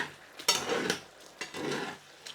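Drained homemade gnocchi being gently stirred with spoons in a pan, giving two bursts of soft scraping and faint sizzling, close and moderately loud, with brief pauses between.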